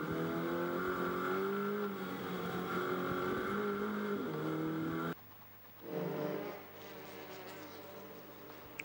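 TCR touring race cars at the Sochi circuit, a close engine whining and revving steadily through the gears, then cutting to a quieter scene where another car flares past and fades.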